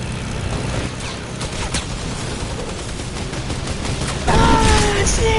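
Airstrike explosions in a video game: a dense rumbling barrage of blasts and gunfire, loud and continuous, swelling into a heavier impact near the end.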